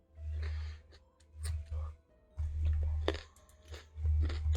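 Loud, close chewing of raw carrot, with crisp crunches in three or four rhythmic bursts and no voice over them.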